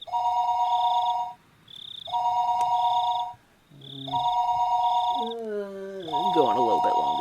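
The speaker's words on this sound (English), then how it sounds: "the phone rang once again" A telephone rings in the Higurashi When They Cry visual novel game, sounding as a clear electronic tone in repeated on-off bursts. A voice and shifting tones come in over the last few seconds.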